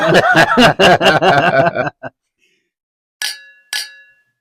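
Glasses clink twice in a toast with a wine-and-cola cocktail, two bright, ringing taps that follow a stretch of chatter and laughter and then stand alone in near silence.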